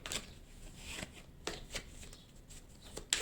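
A deck of tarot cards is cut and riffled by hand, producing several crisp papery flicks and slaps spaced irregularly over a few seconds, close and fairly quiet.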